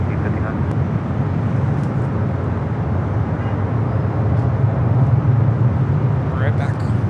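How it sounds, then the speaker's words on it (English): Cathay Cargo Boeing 747-400 freighter arriving on runway 25 left at LAX, a steady, loud, broad jet roar that swells slightly toward the end and holds without a break. "Next arrival on 25 left is the Cathay Cargo 747-400 freighter coming in from Dallas Fort Worth"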